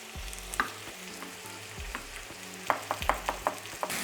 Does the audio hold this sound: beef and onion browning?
yes